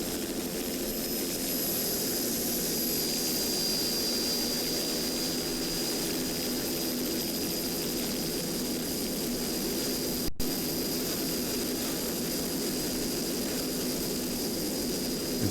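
A 35-foot Cigarette offshore racing boat with Cobra power roars at full throttle. The loud engine drone holds steady and unbroken throughout, with no talk over it.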